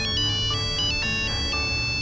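A mobile phone rings with a bright, repeating electronic melody, its notes pulsing in a steady rhythm over a low background hum, loud and close.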